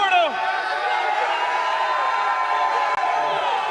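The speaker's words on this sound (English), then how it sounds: "a lot of CEO chants out there" A large crowd chants and cheers at a Call of Duty League Major esports watch party in Miami during OpTic Texas versus Vegas Falcons: a dense, sustained roar of voices filling the room.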